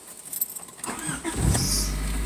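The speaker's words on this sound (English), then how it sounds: "Here, let me show you the cold start." Cold start of a 1994 Honda Del Sol SI engine: a jingle of keys, a brief starter crank, then the engine catches and settles into a loud, steady idle close by.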